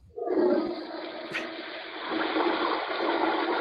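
A toilet flush sound effect played from a soundboard: a sudden loud gurgling rush of water that starts abruptly and keeps roaring steadily to the end, with no talk over it.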